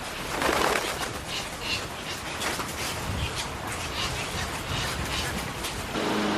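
Birds flutter and call among the mangroves of Jaltepeque on the Salvadoran coast, heard within a dense, steady wash of outdoor noise, with brief coos and wingbeats rising faintly from the constant roar.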